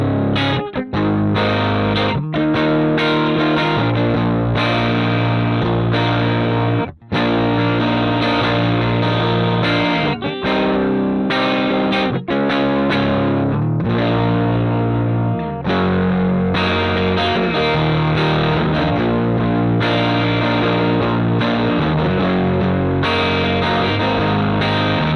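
Electric guitar through a ToneX Roland JC-120 amp profile on the crunch channel, with a smooth, creamy overdriven tone as chords and riffs play continuously at close range with only brief gaps.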